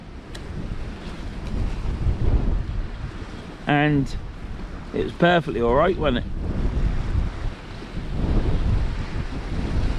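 Strong wind buffets the microphone on the north bank of a river during an afternoon of saltwater fishing, a continuous roaring rumble with gusts, while someone talks briefly over it.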